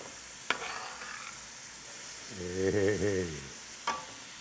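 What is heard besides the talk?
chopped bell pepper and onions being stirred while frying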